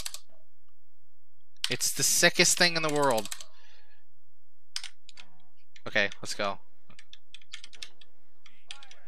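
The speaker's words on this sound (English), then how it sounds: "I apologize that I'm like slamming my hands into the keyboard" Hands slam on a computer keyboard during a Rise of the Triad: Dark War speedrun, with scattered sharp, close key clicks and clatter while someone talks briefly over them.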